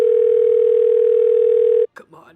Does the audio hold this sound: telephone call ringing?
yes